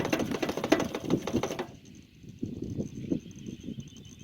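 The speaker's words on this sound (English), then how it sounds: "I can hear there's a little ball bearing or marble in there, and I can hear it jiggling along" A small ball bearing rattling inside a quick shake fuel pump hose, with fast tapping clatter over the first part, then softer, irregular jiggling ticks.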